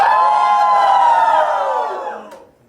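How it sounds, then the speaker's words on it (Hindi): A crowd of guests at a haldi celebration shouting and cheering loudly together for the bride Pratiksha's side, a sustained roar that fades out at the end. "प्रतीक्षा की तरफ से जो लोग हैं जोर से चिल्लाइए"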